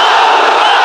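A huge crowd at a religious gathering in a large pandal roars a takbir together in response, a loud, dense mass of voices filling the whole moment.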